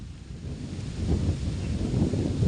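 Strong wind gusts roar and buffet the microphone at a pond, rising in force partway through, with rustling underneath and no talk.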